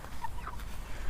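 Fat meat chickens give a few soft clucks and short chirping calls close by, quiet against a low background hum, with no voices.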